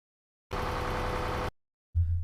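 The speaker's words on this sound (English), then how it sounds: "reasonably good approximation of an interior engine by applying a low filter" Low-pass filtered interior car engine from a racing sim game, N24 race practice: a steady, muffled droning hum for about a second, cutting out, then a brief low rumble returning at the end.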